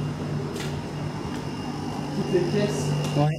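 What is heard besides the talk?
dehumidifier machines running in an abandoned château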